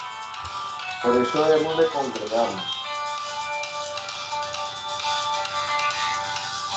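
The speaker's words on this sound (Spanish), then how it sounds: "Disculpen, entró una llamada" A phone ringtone sounds for an incoming call during a Spanish-language church talk, a melodic electronic tune playing on behind someone speaking.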